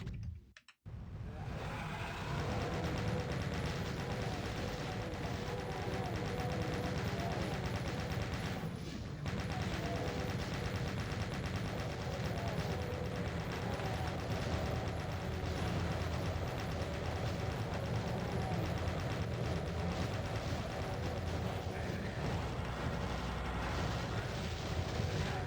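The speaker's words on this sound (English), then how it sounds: "Let's start off with the chain gun and then see where it takes us." Sustained rapid chain gun fire in Doom, Hell's Farthest Shore map, a dense continuous mechanical rattle running loud and almost unbroken for the whole stretch with only a brief pause early on.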